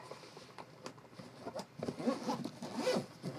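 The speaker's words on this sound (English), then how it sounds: "zip it up" Zipping up the PlayStation VR bundle case: a close, faint zipper pulled in several short scratchy strokes, growing a bit louder and denser toward the end.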